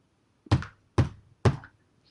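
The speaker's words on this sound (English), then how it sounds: "she knocked on the door" Three firm, evenly spaced knocks sound on a wooden cottage door, close and hollow, each one a solid thunk with a short decay and silence between them.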